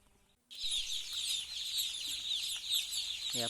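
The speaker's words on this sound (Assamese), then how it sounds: "এয়া পোৱালি আহিছে" Newly arrived broiler chicks in a brooding pen, a dense, continuous chorus of high-pitched peeping that starts abruptly and stays loud and close throughout.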